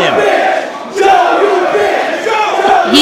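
A wrestling event crowd roars and chants in a large venue, a loud, dense wall of cheering voices that surges in waves across the moment, with no commentary over it.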